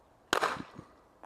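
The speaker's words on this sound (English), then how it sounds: "I'm going to shoot a little bit off to the left of center" A single sharp shot from an Umarex less-lethal self-defense gun, close and loud, with a short reverberant tail fading out afterward.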